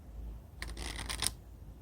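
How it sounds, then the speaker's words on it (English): A deck of cards is shuffled once in a quick riffle lasting under a second, close and fairly soft, against a quiet room hum with no talking. "let's shuffle some cards"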